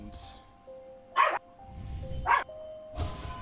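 A pet dog gives a few short, sharp barks in separate bursts, fairly close, with a quiet room tone in between.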